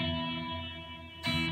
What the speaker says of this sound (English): now I have all these crazy delay and reverb settings